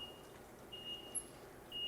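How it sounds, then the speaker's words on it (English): Kitchen timer beeping in a home cooking setting, a few thin high-pitched tones, some long and some short, sounding over a quiet room with low background noise. "We use a lot of timers here."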